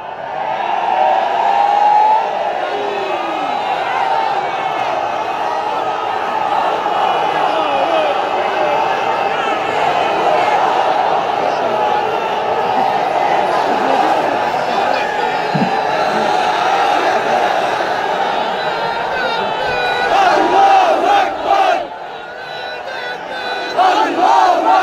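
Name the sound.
crowd chanting slogans at a religious gathering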